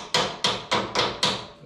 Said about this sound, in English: I think if we just tap on that with a hammer, we should be able to make that